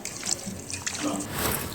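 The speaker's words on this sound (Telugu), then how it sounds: "అందులో ఒక హాఫ్ చెక్క లెమన్ జ్యూస్ మొత్తం పిండాలండి" Juice from half a lemon is squeezed into a mixture, giving a soft, close trickle and a few drips that run for just under two seconds.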